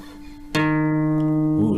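A guitar's D string is plucked once and rings sustained and clear for over a second while being tuned, with a faint tone before it.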